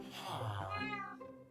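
A cat in the Minecraft Skyblock game gives one quiet, drawn-out meow that falls in pitch and trails off, with nothing else heard around it.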